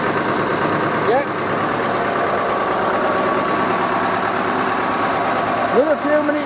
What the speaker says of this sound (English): Another few minutes ticking over, and I can put the new engine oil and filter in.